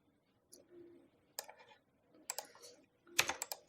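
Light clicks on a computer keyboard in short, scattered bursts of typing separated by pauses, close and fairly quiet.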